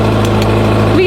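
A 1980s Bombardier snow cat engine idles steadily while warming up in winter, giving a low, even rumble with faint clatter and brief background noises.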